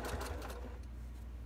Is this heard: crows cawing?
no